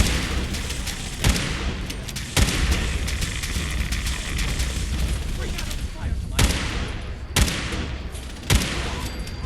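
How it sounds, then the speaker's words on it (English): Gamma guns firing in Fallout 4 in the Far Harbor area, with a handful of sharp, irregular blasts over a dense, noisy game background while someone talks. "Damn gamma guns."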